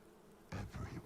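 Swarm of bees buzzing around Candyman as he floats toward a woman in the 2021 horror film, a dense insect drone that swells up abruptly after a moment of quiet, short and close.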